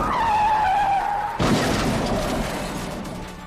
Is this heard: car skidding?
yes